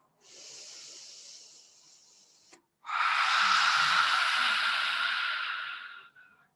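A yoga lion's breath: a short, breathy exhale, a brief pause, then a long, forceful hissing exhale with the tongue out, close and loud, fading at the end.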